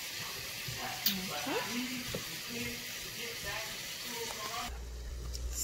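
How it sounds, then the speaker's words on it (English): Potatoes, squash and zucchini fry in a pan with a steady, close sizzle; a few stirring scrapes and clinks cut through, and a voice speaks briefly. "while the potatoes and the squash and zucchini is cooking down"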